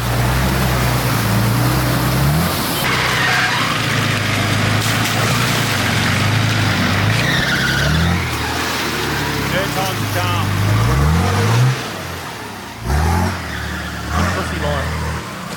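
A 4WD pushes through a muddy bog hole, its engine droning steadily and revving in rising surges as it churns along, loud and close, with splashing water and people talking over the noise.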